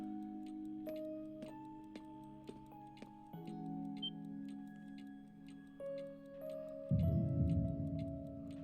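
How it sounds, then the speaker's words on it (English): Clockwork ticking of cogs and springs comes from a door in Trails of Cold Steel, crisp ticks and clicks falling at irregular intervals over sustained tonal hums, with a heavier mechanical rumble rising near the end. "If you listen, you can hear the sounds of cogs and springs coming from it too."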